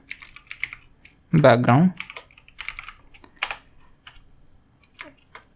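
Someone types on a computer keyboard in quick, irregular bursts of light clicks, close by, with a brief spoken phrase partway through.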